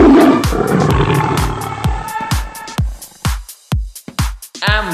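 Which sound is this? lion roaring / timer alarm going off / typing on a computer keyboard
lion roaring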